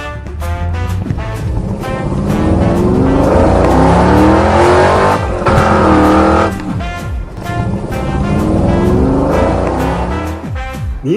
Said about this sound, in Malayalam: ഇത് ഈസി ഡ്രൈവിലെ പുതിയ ഐറ്റം ആണ് കാർ ഡ്രൈവിംഗ് സിമുലേറ്റർ